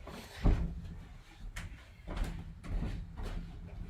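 An indoor door swings shut with a firm thump near the start, followed by a few softer knocks and rattles as it settles, over quiet room tone.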